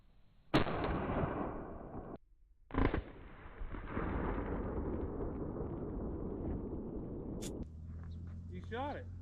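A hidden tank fires its main gun in a video game: two sharp, heavy blasts a couple of seconds apart, followed by a long rumbling roar and a lingering mechanical drone.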